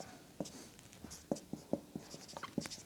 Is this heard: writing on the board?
yes